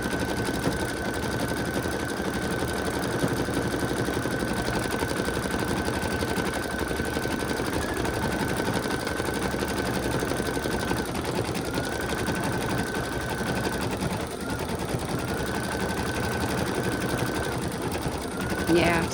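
An embroidery machine stitches steadily for a long stretch after a needle break knocked the arm out of alignment, a dense continuous whir with a sustained tone that briefly drops out twice, loud and close with no talk.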